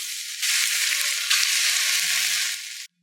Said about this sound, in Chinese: 再把烧好的热油浇上去